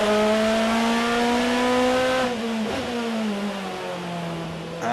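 DTM race cars at the Nürburgring during the 2011 season, with a loud, sustained engine tone that drops in pitch as a car slows while entering the pits, plus a brief bump midway.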